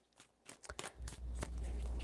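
Tarot cards being shuffled by hand, a run of quick papery riffles and soft slaps that ends in a steady, low, continuous rustle. The sound is close and moderately quiet, with no talking over it.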